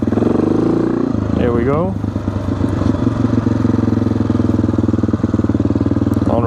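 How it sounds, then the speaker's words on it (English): An AJP PR7 motorcycle with a 600 engine revs up and pulls away, its loud, close engine note rising in pitch through a gear before settling into a steady drone, with a rider's brief voice over it. "It's a nice 600 engine. It has some torque in the lows, that's really nice."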